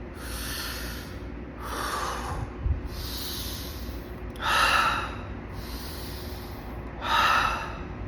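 Slow, deep relaxation breathing close to the microphone, six breathy inhale and exhale cycles with the last two exhales louder and airier, alone with no talking.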